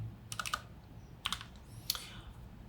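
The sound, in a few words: typing on a computer keyboard into ChatGPT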